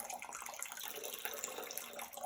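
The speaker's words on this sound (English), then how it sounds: "as we pour into this water" Water poured as a ritual offering to Egyptian gods, a steady, close splashing stream running without a break for a couple of seconds, with no voices.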